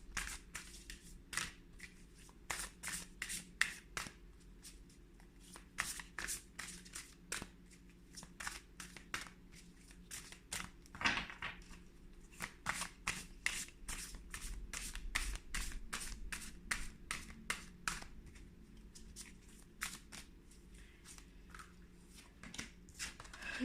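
Large, oversized tarot cards being shuffled by hand, a long run of crisp, rapid riffling bursts repeating in steady waves, close and fairly quiet with no talking.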